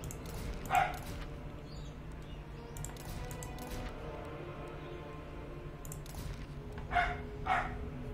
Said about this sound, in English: And there goes the dog.